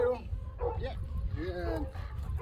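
Dog yipping and whimpering in short excited bursts during a quiet outdoor dog-training session, mixed with a person's voice and some low rumbling.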